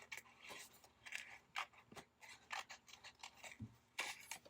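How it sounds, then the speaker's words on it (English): Scissors snip repeatedly around paper, fussy cutting a planner piece with a wide border, a close run of quick irregular cuts and rasps with brief pauses. "I'm just gonna fussy cut around it with a kind of a bigger border"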